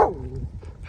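Chief, a pet dog out on a brisk morning walk, gives a single short bark that trails into a whining tone, close by and fairly loud, followed by quiet.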